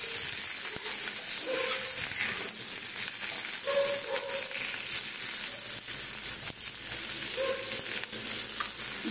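Potatoes tipped into a hot frying pan of oil with sliced onions for chili chicken, giving a steady, loud sizzle and frying hiss throughout, with a few soft stirring scrapes.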